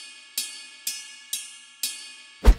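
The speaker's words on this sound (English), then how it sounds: "I just want to have the bell sound" Four evenly spaced bright metallic pings from a GEWA G9 electronic drum kit's 22-inch cymbal bell, each ringing and decaying, followed by a heavier low thump at the end, close and clear.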